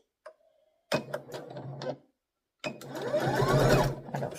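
A sewing machine stitches a shoe sole in a workshop, a brief click and a short burst of stitching, then a pause and a longer run of fast, rhythmic mechanical stitching up close.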